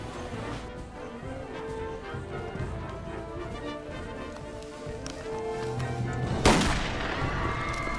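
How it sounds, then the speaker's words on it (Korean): Gunfire from a film scene recreating An Jung-geun's 1909 assassination at Harbin station, a sharp loud shot bursting out near the end over a busy, rumbling background of crowd and scene noise. "안중근 의사가 중국에 있는 하얼빈 그 역사에서 1909년 10월 달에 저격을 했어요"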